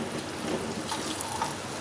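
Water trickles and splashes softly into a pot of cooking masala for mutton, a faint, steady pour with light bubbling, close but quiet.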